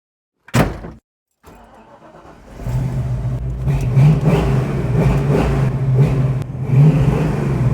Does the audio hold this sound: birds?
no